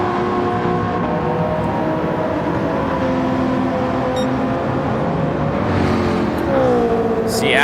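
Race car engines from a McLaren and an NSX in the Gran Turismo 7 game's 24-hour endurance race drone steadily and loudly, layered with whirring tones, and one engine's pitch climbs near the end.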